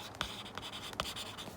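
Marker writing on a board during an accounts lesson: several quick scratchy strokes close by, squeaking in short irregular bursts over a bit more than a second, with no talk.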